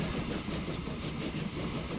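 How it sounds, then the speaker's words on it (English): A passenger train in Transport Fever runs with a steady rolling rumble and faint rhythmic clatter, even and moderately loud throughout. "I'm going to have a passenger train go all the way through"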